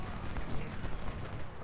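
Cannon counter fire in the video game Ultimate General: Civil War, a dense, rumbling barrage of overlapping booms and crackles, moderately loud and continuous for its brief span.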